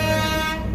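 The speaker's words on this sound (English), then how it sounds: "Honk for freedom." Vehicle horn honking at an outdoor street rally: one sustained, loud blaring toot that lasts the whole brief moment, tapering slightly at the end.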